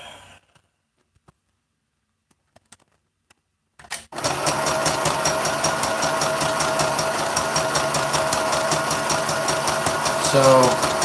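A sewing machine runs steadily for several seconds after a quiet start with a few faint clicks, its motor whirring in a continuous mechanical drone close to the microphone.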